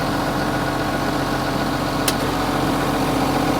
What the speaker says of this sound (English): Let me go ahead and turn the remote pump on here.